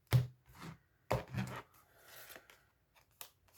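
A deck of tarot cards is cut and shuffled by hand, giving a few sharp crisp card slaps and riffling rustles close up, with quiet gaps between them.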